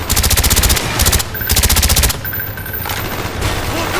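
Rapid bursts of automatic gunfire from the Call of Duty Black Ops campaign, loud and close, in several sustained strings separated by short pauses, with a quieter stretch of background action after two seconds.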